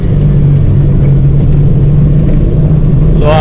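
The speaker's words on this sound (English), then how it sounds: "as the rocks sling up from these tires and beat the bottom of the little truck to death" A Suzuki Carry mini truck drives over a gravel road, its loud road drone and engine hum steady, with faint scattered ticks of rocks striking the underside.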